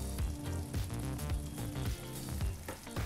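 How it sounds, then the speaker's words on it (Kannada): Vangi bath gojju with grated dry coconut stirred in sizzles and bubbles steadily in a hot pan, a loud, close, continuous frying crackle with occasional stirring scrapes and no voices. "ಈ ರೀತಿ ಒಣಕೊಬ್ಬರಿ ತುರಿನೂ ಸೇರಿಸಿ ಮಿಕ್ಸ್ ಮಾಡಿದ ನಂತರ 1-2 ನಿಮಿಷ ಬಿಸಿ ಮಾಡ್ಕೊಂಡು ಕುದಿಸ್ಕೊಂಡ್ರೆ ಸಾಕಾಗುತ್ತೆ"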